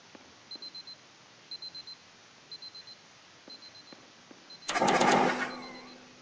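An alarm clock in the video game Superliminal rings in quick bursts of four electronic beeps, repeating steadily, before a loud clattering crash near the end.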